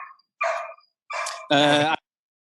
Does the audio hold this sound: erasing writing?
no